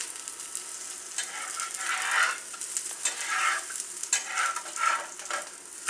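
Urad papad poli roasting in oil on a pan, a steady crackling sizzle that rises and falls in waves as it fries, with no talking.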